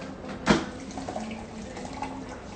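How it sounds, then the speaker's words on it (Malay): Water being added to a cooking pot while preparing yellow nasi kerabu rice with kaffir lime and pandan leaves: a steady close trickle and pour with a sharp splash near the start, no voices. "Sekarang ni kita tengah buat letak air lagi"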